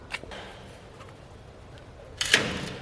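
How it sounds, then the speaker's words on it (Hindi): A door in a house at night pulled shut with a single sharp thud near the end, after a quiet stretch with a faint earlier knock. "अब ये दरवाज़ा कर देते हैं बंद।"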